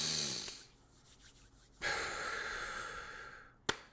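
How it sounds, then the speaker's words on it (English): A person takes a long, deep breath close up, with an audible exhale, a pause, then a strong inhale and a brief sharp sound at the end. "So take a deep breath for me."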